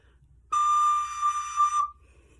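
A recorder sounds a single sustained high D note, clear and pure, held for over a second with slight wavering, alone against a quiet background.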